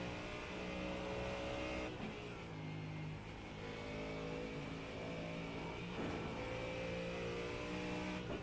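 A race car engine on a Nordschleife practice lap in a racing game, a loud sustained drone that climbs and drops through gear changes, with brief dips at shifts and a steady rise in pitch between them.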